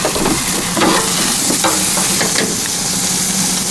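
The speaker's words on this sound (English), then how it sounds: "Steaks down. And now we'll just cook them on both sides like you would have normally done." Grass-fed beef steaks searing in a pan, a loud steady sizzle and crackle of hot fat throughout, close up with no voices.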